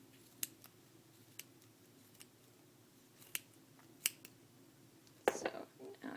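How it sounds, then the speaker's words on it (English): Scissors snip through the yarn strands of a pompom in a series of quiet, crisp, separate cuts, close by with faint whispery handling in between and a rustling flurry at the end. "Make sure you cut all the strands."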